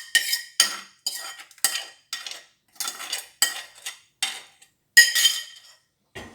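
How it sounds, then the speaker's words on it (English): A utensil stirring bean curry sauce with kidney beans in a metal pot, producing a series of sharp clinks and scraping strokes in an irregular rhythm, close and fairly loud with quiet gaps between. "You mix everything nicely"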